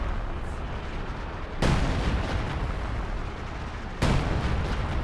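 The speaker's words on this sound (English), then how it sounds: "It takes like a million years for this artillery to land, though." Artillery shells landing in a strategy war game, two loud, abrupt broadband impacts a couple of seconds apart, each followed by a lingering rumbling roar over continuous battlefield noise.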